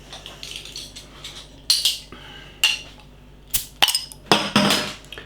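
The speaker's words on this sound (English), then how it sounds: "let's get the beer open first" A bottle cap is pried off a bottle of Amager Bryghus bourbon barrel aged imperial rye porter, with sharp metallic clicks and bright glass clinks in irregular bursts, close and fairly loud.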